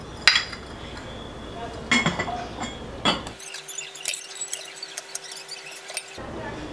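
Ceramic jars and their small lids are picked up and set down, giving sharp clinks and knocks at irregular intervals, close by, with a few quieter taps in between.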